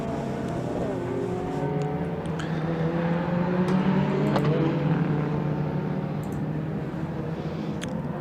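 Steady, loud engine drone of a Raceway Motorsport Ginetta G40 race car lapping Donington Park GP, holding a constant note with slight pitch shifts as it passes, continuous throughout.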